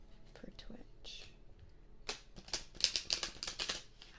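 Tarot cards being shuffled close to the microphone in an ASMR setting, a run of crisp riffling and flicking bursts that grows denser toward the end, with soft whispering underneath.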